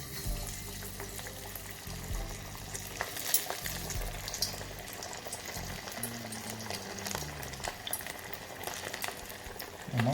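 Prawn vadai frying in a pan of hot oil, a continuous bubbling sizzle with faint low background hum, steady and close.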